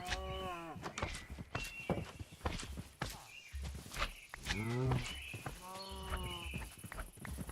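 Minecraft cows mooing in repeated low, drawn-out calls close by, with hoof-like clip-clop steps and game movement sounds between them.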